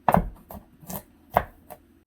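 A knife chops garlic on a cutting board in a kitchen, a handful of sharp, uneven thuds spaced irregularly, close up and alone with no talking.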